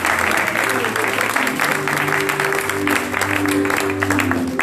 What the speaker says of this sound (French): On va acclamer donc pour les deux sœurs qui nous visitent.